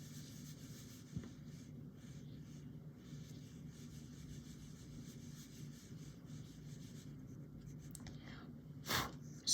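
A pen or pencil scratches on paper close by as pastel colour names are written out, a quiet continuous scribbling with brief pauses and a louder knock near the end.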